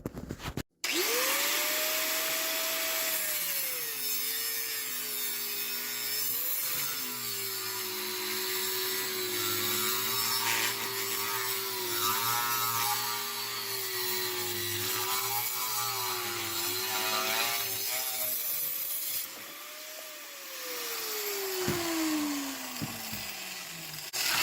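An angle grinder cuts through metal inside an RV, a loud, steady high-pitched whine lasting about twenty seconds, its pitch dipping slightly under load and then winding down at the end.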